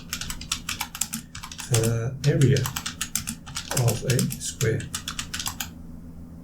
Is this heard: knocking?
no